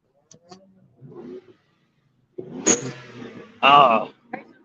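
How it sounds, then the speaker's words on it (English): A racing truck's engine revs on a busy street during Daytona Bike Week, rising in a short burst amid crowd noise and people talking nearby. "Racing truck."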